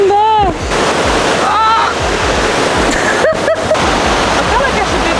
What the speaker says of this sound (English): We have to walk in the river now.